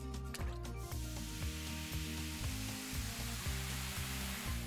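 A salted bath bomb fizzes in a tub of water, a steady close hiss running throughout beneath background music.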